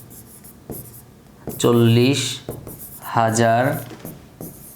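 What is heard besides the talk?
pen writing on paper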